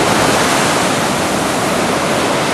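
Ocean surf rolls onto a hot beach as a continuous loud broadband wash, close and steady, with no voices over it.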